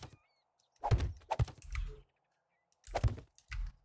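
Computer keyboard keys are pressed in two quick clusters of clacks and thunks, close and fairly loud, separated by a short silence, with nobody talking.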